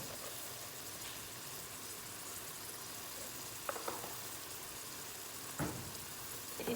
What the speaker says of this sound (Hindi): और ये जो साग है मेरा ये भी अच्छी तरह ये फ्राई हो जाए।